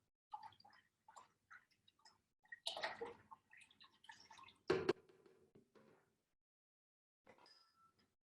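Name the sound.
pouring lemon juice into water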